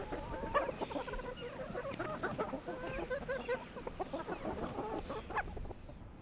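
Chickens clucking in a rural Sardinian farmyard on the Giara plateau, a busy continuous chorus of clucks and short calls from several hens close by, with steady outdoor background noise and no talking.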